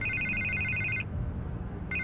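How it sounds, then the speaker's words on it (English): A telephone rings in repeated electronic trilling bursts, about one second of ringing, a pause, then ringing again, over low background rumble in a scene from the Batman Telltale Series video game. "I can't get the phone to stop ringing."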